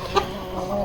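A fighter hen clucks softly in a desi backyard flock, with a couple of short, close clucks breaking through a steady farmyard murmur.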